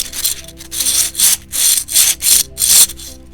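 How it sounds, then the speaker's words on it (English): A slippery dragon egg fidget toy is squeezed and rolled in the hands, making six rhythmic, loud, close-up rubbing swishes, each about a third of a second long, with short pauses between. "It was the fidget toy I was talking about. The slippery dragon egg fidget toy."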